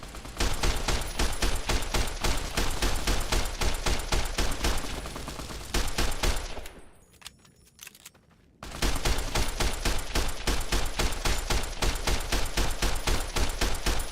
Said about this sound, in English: Hip fire for the win!